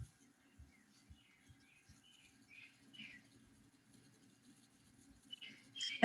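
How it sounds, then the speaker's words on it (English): Small bird chirping in brief, faint high calls scattered through a quiet meeting room, with low thumps and a louder burst near the end. "That bird really is chirping, isn't he?"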